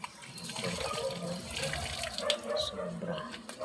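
Taro corms being washed by hand in muddy water, with a steady running, splashing wash close by and a faint voice in the background.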